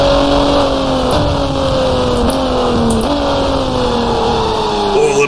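Race car engines in the video game GT Racing 2002, a steady loud drone of several GT cars running together with gentle pitch shifts as gears and revs change, with no talk.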